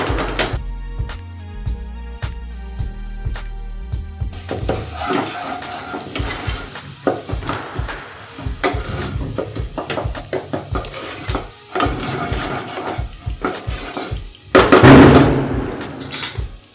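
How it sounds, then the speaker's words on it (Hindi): Masala spices frying in a pan for a Diwali dinner, a steady sizzle with repeated stirring and scraping clatter, a brief music-like tonal passage at the start, and a louder burst of sizzling near the end. "और मसाला अच्छे से फ्राई होने दे।"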